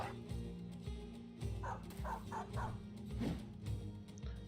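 Several dogs bark and yip repeatedly in a fight in the video game Battle Brothers, with short overlapping barks and a few whimpers at a moderate, steady level.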